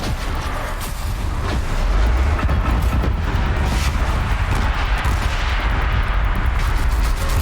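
Gunfire in Horizon Zero Dawn: a dense, loud barrage of booming shots and blasts rattling on without pause for several seconds.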